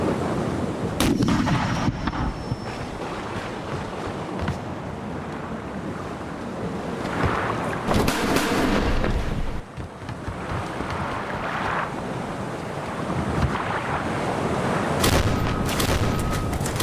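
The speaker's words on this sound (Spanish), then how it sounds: "La primera batería de costado del navío inició la inevitable carnicería" A ship's broadside cannon battery fires during a stormy sea battle, with loud repeated booming blasts spread across the stretch, set against a continuous rumble of wind and surging waves.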